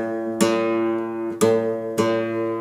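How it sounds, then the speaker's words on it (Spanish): Three plucked guitar notes from the sixth string fretted at the fifth fret, tuned by ear against the open fifth string, each sharp attack ringing out clearly and close, with no talking. "para afinar la sexta hay que pisar el quinto traste de la sexta"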